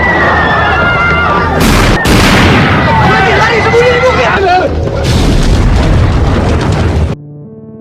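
A war film attack scene in which Dutch forces strike an Indonesian independence-era gathering, with loud booming explosions and bursts of gunfire crowding together densely before cutting off abruptly.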